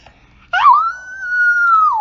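A single loud howl, attributed to howler monkeys in a swampy forest, rises sharply and holds as a long, steady wavering tone before falling away at the end.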